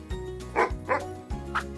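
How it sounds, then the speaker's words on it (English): A dog barks three times in a steady rhythm, each bark a short, close, moderately loud yip-like burst with no other sounds around it. "a dog."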